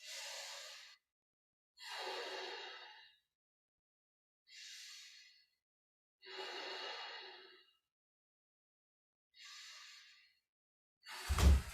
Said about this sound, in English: take a few deep breaths